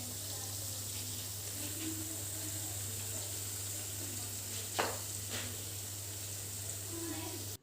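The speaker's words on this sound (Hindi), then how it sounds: "एक लॉट हमने निकाल भी लिया जो था फ्राइंग करके कोफ्ते का, और दूसरा लॉट अब डाल रही हूँ मैं" A second batch of koftas, made from a mix with besan, onion, salt, turmeric and cumin, sizzles steadily in a pan, a continuous frying hiss with a couple of brief louder crackles, fairly close and with no talking over it.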